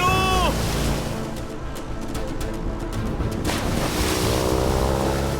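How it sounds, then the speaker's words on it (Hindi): A cyclone at sea: strong wind roaring over crashing, surging waves, loud and continuous, with a boat engine droning underneath and brief tonal whines at the start and end. "अरे साइक्लोन भी स्टार्ट हो चुका है।"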